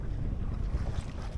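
Wind buffets a sailing boat at sea, a steady low rumble and rush across the microphone with faint splashing of water, no voices.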